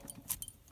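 A car key on its key ring gives a few faint metallic jingles and clinks, brief and close, with short pauses between the small rattles.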